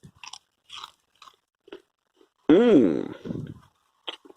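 A fresh home-grown allotment cucumber is bitten and chewed close to the microphone, with several crisp crunches followed by one loud wet crunching bite; a person hums appreciatively partway through.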